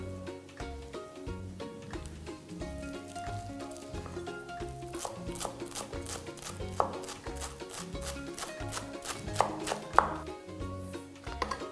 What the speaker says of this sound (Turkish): Hemen otlarımı doğrayarak hazırlığıma devam ediyorum.